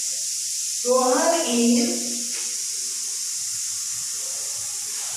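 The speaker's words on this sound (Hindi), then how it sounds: "पड़ोसी खाना बना रहे हैं, कुकर की आवाज आ रही है" A pressure cooker in a neighbours' kitchen hisses steadily at evening cooking time, a constant airy rush running through the whole stretch while someone briefly speaks over it.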